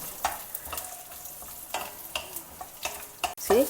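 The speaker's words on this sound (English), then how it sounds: "add some cashew nuts and raisins and fry them also along with the coconut." Coconut pieces, cashew nuts and raisins fry in hot ghee with a steady sizzle, stirred with scattered clicks and scrapes of a utensil against the pan and a louder clatter at the end.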